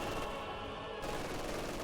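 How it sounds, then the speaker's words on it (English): MG42 machine gun fire in the Company of Heroes 2 game rattles in a dense, continuous burst with battle noise behind, loud throughout. "MG42 ripping apart those squads in negative ground"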